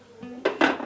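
The lid of a yogurt maker being opened gives a short, close clatter of plastic and pot knocks, two quick bright bumps following a faint scrape.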